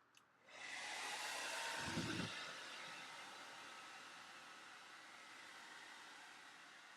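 A hair dryer switches on with a click, then blows a steady, close, breathy rush of air that stays fairly loud and even. A short low thump comes early on. It is used to dry a wet Guillows Nieuport model plane.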